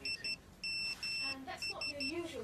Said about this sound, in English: I'll have to get my ringtone changed